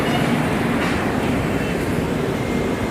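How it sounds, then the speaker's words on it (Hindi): A train rolls over a railway station bridge in a steady, loud, close rumble that holds without a break. "ट्रेन जा रही है"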